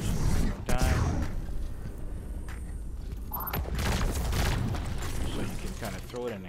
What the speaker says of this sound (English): So you can kind of throw it and explode it over enemies